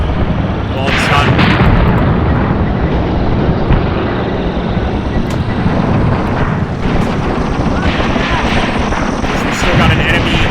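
Continuous loud rumbling battle din from a WW2 video game set in North Africa, with artillery fire and dull impacts landing on a hilltop, dense and unbroken, with a voice talking over it at times.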